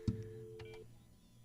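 A station desk telephone being dialed out: a click, then a steady electronic tone for under a second that cuts off, with a couple of faint clicks after, in a quiet room.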